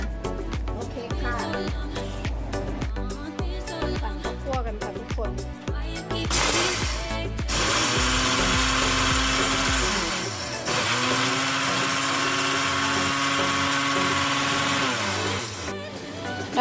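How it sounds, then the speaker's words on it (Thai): Electric blender grinding toasted rice with herbs for larb, a loud continuous whirring drone that follows a stretch of clattering kitchen sounds, running steadily with slight changes in pitch until the end. "แล้วก็ปั่นต่อค่ะ"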